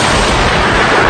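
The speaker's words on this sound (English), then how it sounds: "Luckily we've got the stun grenades, which they do create a big surprise." Stun grenade going off during room clearing, a single very loud, close blast that fills the whole second with dense noise, heard alone.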